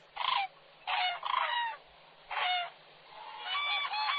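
Cranes calling at an open wetland: about five loud, harmonic trumpeting bursts in an irregular series, some close together, with short quiet gaps between them and no voices.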